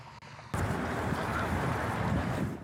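Ocean breeze gusts past nearly 3,000 flags on a lawn above the Pacific, a steady broadband whoosh of wind and flapping fabric that swells in abruptly and stays loud throughout.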